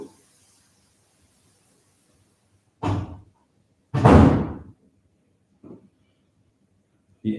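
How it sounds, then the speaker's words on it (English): A door slams shut with a sharp, loud thud in a quiet room, preceded and followed by a few fainter knocks or bumps, with no talk over it. "Close the door."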